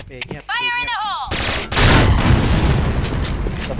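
A booming explosion in a video game, with a bridge blown up, bursts in after a short musical tone, followed by rapid gunfire and crackling blasts, loud and close.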